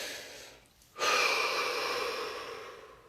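A slow, deep inhalation followed by a long, steady exhalation during a guided relaxation exercise, close and breathy, with a brief quiet pause before the out-breath swells and gradually fades.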